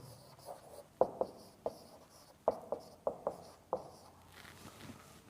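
Chalk tapping and scratching across a board during an English grammar lesson, a series of sharp clicks and short strokes in an uneven rhythm, close and fairly clear in a quiet room.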